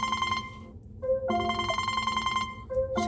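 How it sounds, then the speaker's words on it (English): A phone rings with an incoming call, a repeating electronic ringtone of bright, steady tones broken by short gaps, heard on its own with no talk. "Had a phone call come in."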